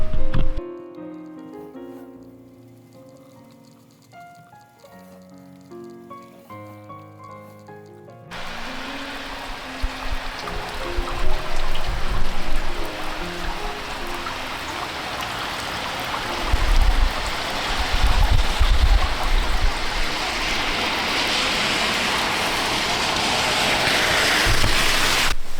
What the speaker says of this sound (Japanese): 外は大雨 っていうか雨なんですけど